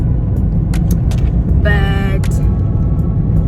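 A car driving in Namibia with steady low road and engine rumble throughout, someone talking over it, and a brief tonal beep or chime partway through.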